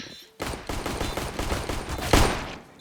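Rapid bursts of Glock pistol fire in a Counter-Strike match on the Inferno map, a dense run of sharp shots with one louder crack near the end and a faint voice underneath.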